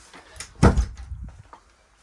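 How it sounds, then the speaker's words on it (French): A door swung shut indoors in a home with a sauna and storage area, one firm close with a dull thump and brief rattle, close by, then quiet. "Je vais fermer la porte."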